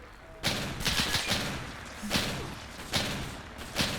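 Grenades exploding in the video game Arma 3, heard as about five sharp, heavy thuds spaced roughly evenly over a low background hum.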